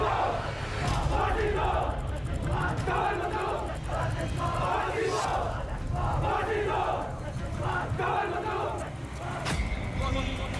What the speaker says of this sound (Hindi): हजारों लोगों की भीड़ पाकिस्तान मुर्दाबाद के नारे लगा रही है।